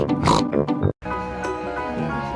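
A voice imitates a pig's oink in the manner of Peppa Pig, a short nasal snort sounding loud and close, with voiced, harmonic vocal sounds filling the clip.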